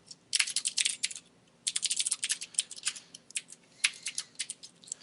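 Rapid clicking of computer keys typing code in bursts with short pauses, close and clear, no voices.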